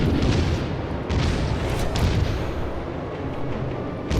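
Heavy naval gunfire from the German battleship SMS Kaiser in World of Warships, a loud, rumbling salvo of deep booms rolling on for several seconds with no talk over it.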